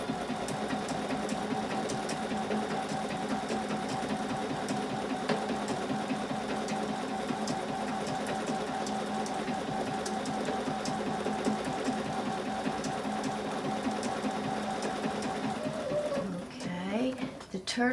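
A sewing machine stitches a turtle-shaped quilting pattern in a quilt, running in a steady rapid whir of needle strokes for most of the stretch, then slowing and stopping near the end amid handling noises.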